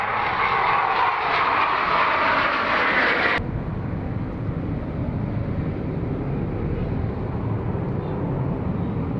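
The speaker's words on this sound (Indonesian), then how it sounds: "sudah banyak pesawat tempur lewat-lewat ya" Fighter jets passing overhead, a loud continuous roaring rush of engine noise that cuts off abruptly partway through, leaving a lower steady rumble for the rest.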